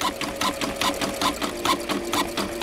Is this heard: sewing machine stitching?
yes